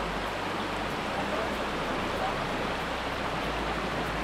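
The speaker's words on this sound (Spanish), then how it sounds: "vean la correntada que tiene ese río" Fast-flowing river current in the Costa Rican forest, a steady dense rush of water that fills the whole clip, loud and continuous with a low rumble underneath and no pauses.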